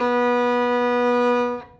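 A single sustained bowed violin note on the G string, clear and steady, fading out at the end.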